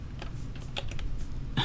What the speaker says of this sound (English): you can just hit the delete key on your keyboard